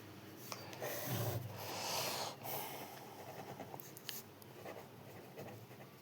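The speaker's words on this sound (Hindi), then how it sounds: "यहाँ पे हम लिख दे रहे हैं साइड में" Pen writing degree notes at the side of a page while solving class 9 polynomial maths problems, a steady close scratching and rubbing with soft breathy noises, no talk.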